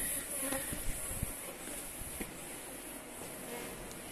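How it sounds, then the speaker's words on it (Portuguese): A large swarm of Apis honeybees drones steadily inside an abandoned mill, a dense continuous buzz close by with a few faint knocks and handling noises mixed in. "Nossa, ainda tem muita abelha,"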